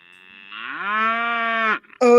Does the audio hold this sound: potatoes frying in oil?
no